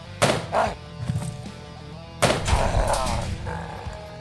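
Gunshots in the video game Quasimorph, two loud, close bursts of booming reports separated by a couple of seconds, each one dying away into a rumbling tail.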